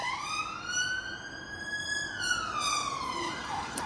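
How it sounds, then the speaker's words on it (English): A police siren on a street in Putney, London, sweeps in a slow rising-and-falling wail, loud and fairly close over a low traffic bed, shifting pitch as it passes by. "Another siren."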